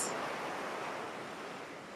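Waves washing up on sand and receding toward the ocean, a continuous soft rushing wash that eases slightly in level, with no voices.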